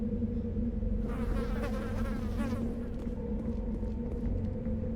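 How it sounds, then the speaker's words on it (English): Flies buzz over dead corpses in an alien world in Mass Effect, a steady droning hum running throughout beneath other game ambience, with what may be a faint voice briefly in the middle. "Flies buzzing over dead corpses."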